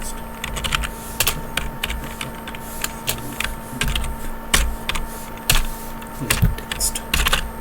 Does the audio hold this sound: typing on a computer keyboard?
yes